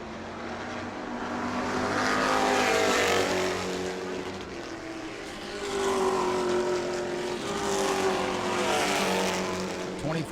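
Race cars roar past on the back straightaway of New Smyrna's oval during World Series racing, loud engine sweeps rising and fading in two long passes with a steady mechanical drone between.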